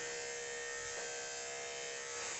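Electric grooming clippers buzz steadily and close up while trimming the loose-skinned armpit of a dog during a full grooming session, a continuous bright hum with a brief rise in tone partway through.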